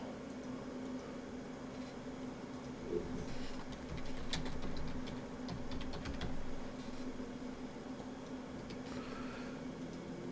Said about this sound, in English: I'm a sausage fingers kind of typer, so don't mind me.